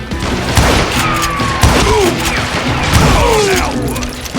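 Gunfire from the video game Call of Juarez: Gunslinger rings out in several sharp shots amid a loud, busy game soundscape with whooshing and thuds, and brief voiced lines mixed in.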